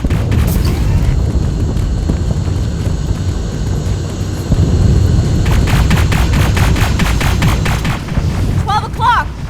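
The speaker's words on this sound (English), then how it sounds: "What the hell are they shooting at?" Sustained gunfire and booms from the video game Terminator: Resistance, dense and loud, with rapid automatic bursts and a whining aircraft-like drone beneath, while voices speak over the din.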